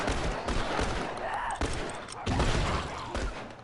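Rapid bursts of gunfire from The Last of Us, dense volleys repeating through the whole stretch with heavy low-end thumps, loud and close, with faint voices mixed under the shooting.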